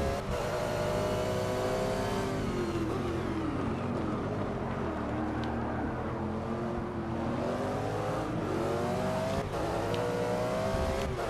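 Race car engines in the Forza 6 video game, GT racing with a Lamborghini and Corvette: continuous loud engine roar with rising and falling revs, close and dense throughout.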